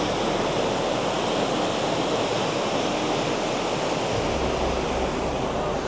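Warm water pouring and splashing into the Gaurikund bathing pool on the Kedarnath trek, a loud, dense, unbroken rush like a small waterfall close by, with no voices standing out.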